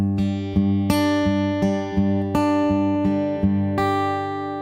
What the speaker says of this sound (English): my ring finger here, plucking the high E string in this case